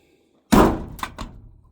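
A 1970 Ford F100 short bed pickup door swings shut with one loud, solid thunk, followed by a couple of quick rattling knocks as it settles.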